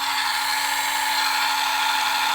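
A power drill bores a 1.6 mm hole into white metal at its slowest speed, giving a steady, continuous high-pitched whine with a faint hum underneath, alone and unbroken throughout.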